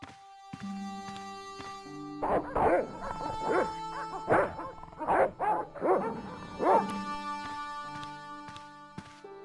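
Guard dogs at a countess's house in the Director's Cut of the adventure game Broken Sword bark in a rough burst of several yaps over a quiet sustained background tone.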